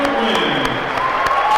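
An away crowd at a varsity wrestling match gives a standing ovation, with clapping and cheering filling the hall while a commentator talks over it.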